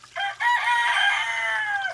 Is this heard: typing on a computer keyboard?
no